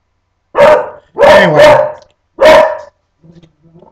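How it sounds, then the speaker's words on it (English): A house dog barks in shrill, sharp bursts, four loud close barks in an uneven rhythm, then a couple of faint whimpering yips; a brief word is spoken. "my damn dog barks at nothing"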